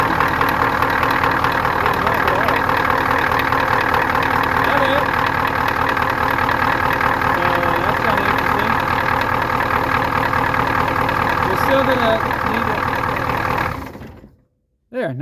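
A 1989 Ford F-350 pickup, mid power-steering-pump replacement, idles loud and close with a steady knocking rumble that holds for about fourteen seconds before the engine cuts off abruptly, leaving near silence.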